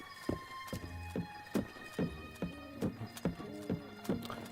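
A horse trots in a video game town, hooves clip-clopping in a brisk, even rhythm up close. A light tonal background sound runs underneath.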